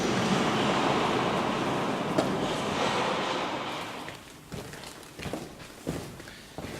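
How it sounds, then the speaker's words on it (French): A steady, broad rushing roar of air in the organ blower room of Albi cathedral, housed in the bell tower, loud and constant before easing into quieter air noise with a few knocks and shuffles. "on est dans la soufflerie de l'orgue, donc qui se trouve dans la tour du clocher"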